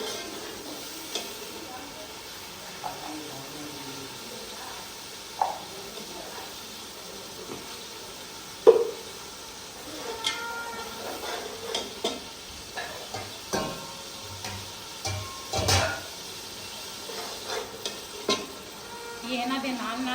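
Goat meat frying in a pot with tomatoes and green chilies, salt and biryani masala in a Pakistani village kitchen, a steady low sizzle broken by louder scraping stirs and clinks every few seconds, close by.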